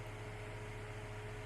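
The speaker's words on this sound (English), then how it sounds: "And I have my fan on, so if you hear like a little humming thing in the background, that would be what it is" A household electric fan hums quietly in a bedroom, a faint, steady drone with a low tonal buzz and soft airy hiss, unchanging and alone.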